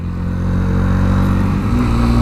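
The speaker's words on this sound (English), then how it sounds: "even through the earplugs I can hear that the engine sounds great" A 2017 Sinnis RSX125 single-cylinder motorcycle engine runs loud and close with a steady buzzing drone that rises in pitch toward the end as it accelerates.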